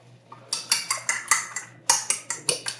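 Three eggs beaten hard with a utensil in a bowl, about a dozen sharp clinking taps in a fast, steady rhythm, close and clear with no talk.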